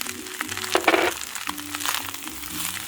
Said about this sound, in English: And now we're going to add the pineapple.